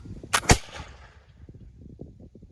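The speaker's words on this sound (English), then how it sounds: "The musket's discharged." A musket volley from redcoat reenactors of the Napoleonic era: two sharp, loud cracks in quick succession, then a fading rumble with low murmuring and shuffling behind it.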